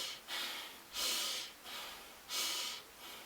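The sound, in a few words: breathing in through the nose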